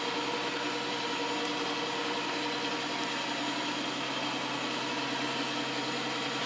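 An iClebo Smart robot vacuum's suction motor runs in turbo mode, a steady, close whirring hiss that holds evenly throughout without a break.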